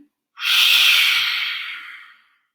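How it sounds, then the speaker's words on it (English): A single deep, slow inhale during a breathing exercise: a close, airy rush of breath that starts sharply and then fades gradually over about two seconds, with no voice over it. "Inhale."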